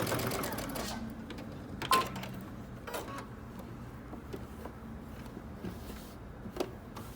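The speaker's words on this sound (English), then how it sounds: "Now I'm going to put my needle back down, backstitch" A home sewing machine stitches a dress seam from a Simplicity #8547 pattern in short bursts of motor whirring, with a backstitch and small clicks between runs. The sound is close and moderate, with a voice nearby.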